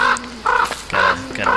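Birds in the game Don't Starve: Reign of Giants give a few short clucking, crowing calls close up, in separate bursts with brief gaps and no talk.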